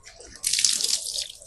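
Tap water splashing over hands and forearms up to the elbows during wudhu ablution, starting as a faint trickle then a sudden louder hiss of running water, close and without speech.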